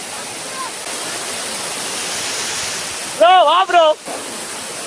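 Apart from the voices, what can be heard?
water rushing over the Kodiveri dam like a waterfall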